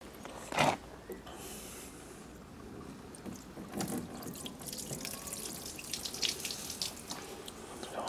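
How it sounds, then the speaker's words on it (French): Water thrown in splashes over a car's body seam along the bodywork joint, bursts of spray and trickling that come and go over several seconds, close and moderately loud. "Je vais balancer un peu d'eau, et on va regarder si ça rentre dans l'habitacle"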